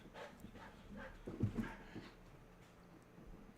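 Stitch, a pet dog acting like a puppy, gives soft whimpers and panting close by, with a brief louder yip in the middle. The sound is quiet throughout.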